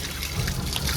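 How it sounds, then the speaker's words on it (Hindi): Mountain spring water at Dugadda running nonstop from a roadside spout, a steady, close rushing trickle that fills the whole moment without a break. "यहाँ 24 घंटे पूरे साल पानी बहता रहता है।"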